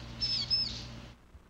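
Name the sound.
vinous-throated parrotbill (crow-tit) calling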